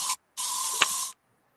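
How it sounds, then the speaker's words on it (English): Molly sprays something in two close bursts of spray hiss, a short one and then a longer one, with silence after. "That's Molly spraying something."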